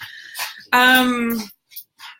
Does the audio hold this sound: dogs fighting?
yes